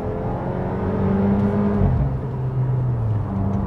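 Fiat Fastback Abarth Turbo 270 on a small country road, its engine pulling hard in Poison sport mode, a steady loud rising drone that dips briefly around a gear change and then climbs again, close and unbroken, with no voices.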